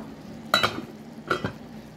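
Saluyot (molokhia) being stirred in a pot as it heats: two brief scraping stirs, close and fairly soft, over a low steady background hiss.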